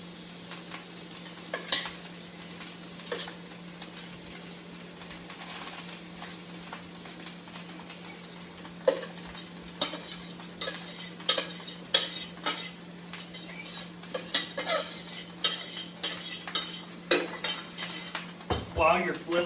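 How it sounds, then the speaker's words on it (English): Rice frying in two tablespoons of butter sizzles steadily while a utensil repeatedly scrapes, clinks and taps against the pan as it is stirred and flipped, the clatter growing busier toward the end. "while you're flipping the rice"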